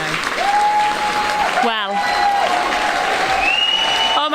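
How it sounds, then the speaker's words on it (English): Standing ovation from a convention crowd at a Sweet Adelines barbershop singing event, steady dense applause filling the room with a voice speaking briefly over it. "I can't actually hear myself think because the crowd is on their feet"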